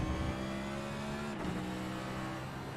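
Race car engine at Circuit of the Americas during the Lone Star Grand Prix, a loud, close, sustained drone with steady harmonic pitch and a brief shift partway through, with no voices.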